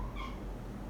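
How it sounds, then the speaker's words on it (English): A house cat lets out a single short, faint meow early on, heard indoors against a low background hum. "Oh, stupid cat."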